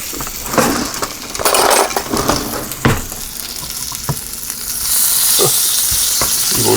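Ball Park franks cooking on an original George Foreman grill: close, steady sizzling and frying crackle with scattered light clinks and knocks, louder and more hissing toward the end, no voices.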